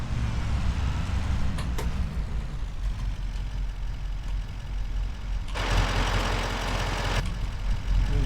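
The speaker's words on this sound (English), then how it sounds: "Wood chipper works great though" A wood chipper in a game set in North Montana drones on steadily with a low, rough engine rumble, joined midway by a brief louder burst of grinding noise, with no talking.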